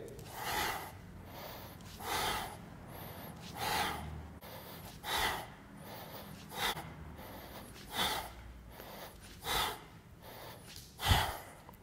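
Sharp, forceful exhalations from a yoga session during a core exercise of knees drawn to chest, repeating about every one and a half seconds, close and breathy with short pauses between.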